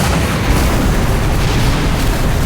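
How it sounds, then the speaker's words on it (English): A bunker buster bomb detonates in the video game Tokyo Babel, a dense, loud rumbling blast that sustains as a broad roar for the whole moment without any voices. "It got straight in the middle, exploding in a fiery inferno."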